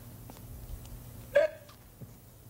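A voice makes a single short hiccup imitation, a brief sharp vocal catch standing alone against quiet room noise.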